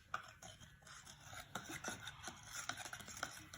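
A glow lab science experiment mixture is stirred in a container. The scraping and rubbing is close, busy and uneven, with small clicks and taps all the way through.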